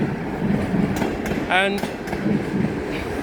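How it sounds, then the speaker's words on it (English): A train runs past on the railway at Hardy Road, a steady rumbling wash from close by with a short squeal in the middle, and a person speaks briefly over it. "Now this is Hardy Road, and we have another train here"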